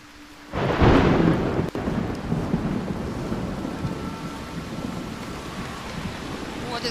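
Thunderstorm in the horror game The Haunting of Joni Evers, a loud thunder crack bursting in, then rolling rumble under heavy steady rain and wind.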